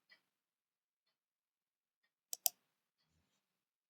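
Two quick, close computer mouse clicks in near succession, sharp and isolated against near silence.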